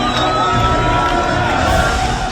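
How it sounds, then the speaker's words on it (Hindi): A large crowd in the West Bank cheers and shouts to welcome released Palestinian prisoners, a loud, dense, continuous roar of many voices. "हजारों की भीड़ उनका इस्तकबाल कर रही है"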